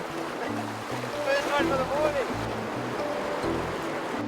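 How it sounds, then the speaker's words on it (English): Waves roll onto a sandbank at the Sundays River mouth in the Eastern Cape, a continuous wash of surf and moving water under a man's speech. "the water's rolling onto the sandbank and then rolling to the side and into a gutter"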